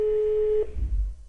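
A mobile phone call tone from a line on the North Korea–China border: one steady, clear tone that cuts off after about half a second, followed by low rumbling handling noise.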